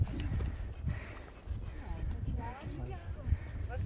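A horse walks over rough ground near Stórkonufell and Mælifell in Iceland, its hooves clip-clopping in a steady, close rhythm while people talk over the steps.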